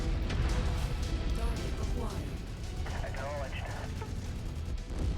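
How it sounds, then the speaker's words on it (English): Artillery barrage in the modded mech combat game Mechwarrior 5, steady heavy rumbling blasts and battlefield noise filling the whole stretch, with voices blended into the din. "Over here trying to dodge artillery and this doofus is standing in my way."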